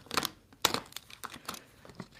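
Leather vinyl wrap on a gun safe being sliced with a blade at the hinges, giving crisp crinkling, tearing bursts in a few separate strokes, close and fairly quiet.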